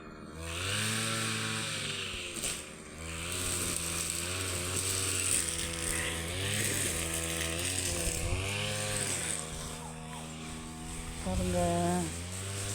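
A petrol-powered brush cutter runs close by while clearing undergrowth, its engine droning loudly and rising and falling in pitch as it revs and cuts.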